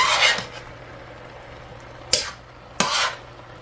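A spoon stirring and scraping through vegetables like broccoli and cabbage in a home cooking pan: a soft swishing sweep at the start, then two sharp metallic clanks against the pan near the end, close and on its own.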